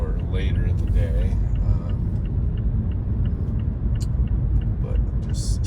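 A car drives through Pittsburgh traffic after 5 pm with a constant low road rumble throughout, a faint voice early on, and a few brief higher clinks and hisses.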